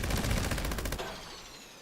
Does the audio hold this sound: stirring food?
no